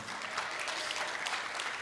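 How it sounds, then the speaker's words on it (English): A church congregation applauds and cheers its worship team, a fairly quiet, continuous wash of clapping from a crowd with no distinct voices. "Yes, you can cheer for them."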